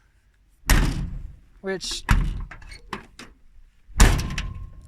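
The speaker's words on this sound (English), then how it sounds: "You have to slam this door." Door of a Mercury Capri car slammed shut twice, each a loud close thud, with someone speaking between the slams.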